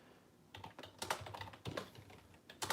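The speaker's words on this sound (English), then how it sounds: "You can probably hear all my typing." Someone types on a computer keyboard nearby, with irregular bursts of clicking keystrokes and a few louder key taps. The typing sounds alone, with no talking.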